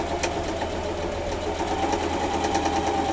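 A sewing machine runs steadily while back stitching on a quilt block, giving a close, even mechanical whir with no pauses.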